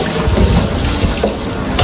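Hot water running steadily from a kitchen tap, a continuous close hiss and splash with slight fluctuations.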